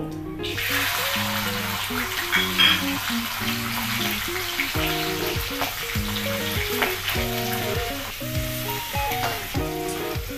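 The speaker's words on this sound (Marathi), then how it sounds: "तेल टाकलंय आपलं. जिरं टाकायचं, थोडंसं हिंग," Cumin, a pinch of asafoetida and peas frying in hot oil for samosa filling, a loud continuous sizzle with stirring scrapes and clinks up close, no voices.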